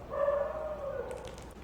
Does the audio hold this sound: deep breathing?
no